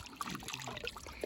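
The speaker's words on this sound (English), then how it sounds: "Fill up the water trough." Water pours and trickles steadily into a horse's water trough, a close, continuous splashing flow with small gurgles, no talking.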